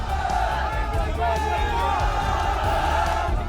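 Street crowd in Tonk shouting slogans in protest, a loud, steady mass of overlapping voices and chants with no break.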